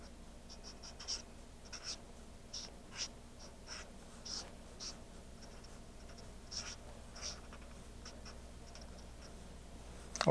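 A pen scratches out short, textured strokes for a caricature drawing, giving quiet, close, scratchy flicks in an uneven rhythm over faint background hiss.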